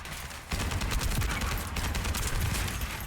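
Dense, rapid automatic gunfire from the video game The First Descendant rattles continuously and loudly in quick bursts.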